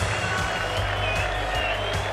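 Steady, dense applause and cheering from a crowd of nearly 92,000 at a packed stadium greets the trophy presentation after a 1989 Victoria versus South Australia State of Origin football match, a continuous roar without pauses.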